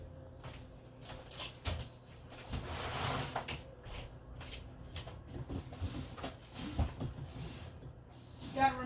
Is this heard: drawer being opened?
yes